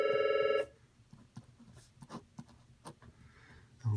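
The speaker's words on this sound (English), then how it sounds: "So the phone's ringing. I'm not going to answer it." A telephone rings briefly at the start, a short electronic trill that cuts off, followed by faint scratching of writing in a quiet room.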